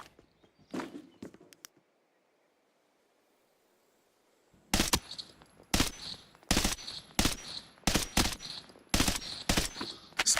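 A video game gun fires in bursts, with loud, close, sharp shots spaced in a steady rhythm after a few earlier pops and a short quiet gap.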